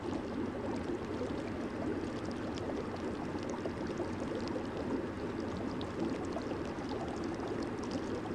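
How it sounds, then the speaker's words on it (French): Hot water flows steadily in a jacuzzi, a continuous broadband rush and churn with no breaks, fairly close and even in level throughout. "Maintenant, direction le jacuzzi pour une petite détente finale"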